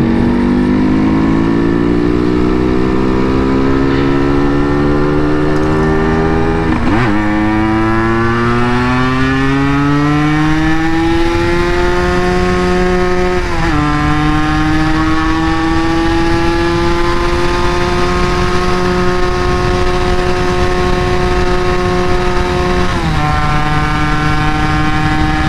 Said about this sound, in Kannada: ಆರಾಮಾಗಿ ಓಡ್ತಾ ಇದೆ ಗಾಡಿ ಇವಾಗ